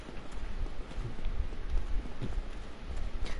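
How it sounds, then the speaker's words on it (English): Heavy armored footsteps of Havel approaching in Dark Souls Remastered, a steady run of low thudding steps mixed with a rain-like rustle, moderately loud throughout with no talk. "It's a good thing I could hear the footsteps."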